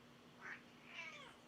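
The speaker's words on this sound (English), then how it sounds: "Oh, my kitty's here. My kitty wants some attention." A pet cat meows twice at close range, a short soft call followed by a longer drawn-out one, quiet against a faint steady hum.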